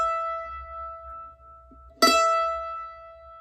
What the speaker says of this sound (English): if you have an E string, play your first string, E string, and it should sound like this.